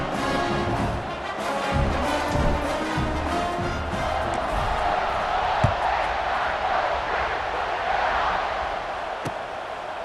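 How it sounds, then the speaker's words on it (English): Stadium crowd noise roars continuously in EA Sports College Football 26 during a kickoff, a broad steady wash of cheering with a few sharp thuds, no voices on top. "this crowd is feeling themselves after that last drive"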